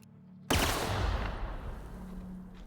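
A plasma rifle in The Outer Worlds fires a three-round burst that lands as one sharp, loud blast, then trails off in a long, fading rumble with no talking.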